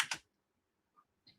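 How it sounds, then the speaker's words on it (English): A computer keyboard clicks twice in quick succession, then two fainter, isolated taps follow after a pause, all quiet and close with no voices. "Oh no, I typed the wrong word."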